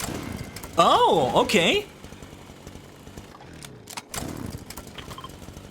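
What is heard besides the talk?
ripsaw launcher chainsaw weapon in the video game Fortnite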